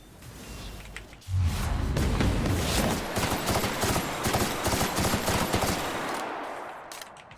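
Gunfire in the video game The Outer Worlds, Peril on Gorgon DLC: after a short lull a loud burst opens a sustained rapid fusillade of automatic shots and impacts lasting several seconds, dense and continuous before tapering off.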